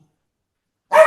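A dog gives a single sharp bark at the end after near silence, close and fairly loud.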